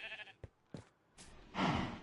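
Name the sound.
sheep bleating in video game Minecraft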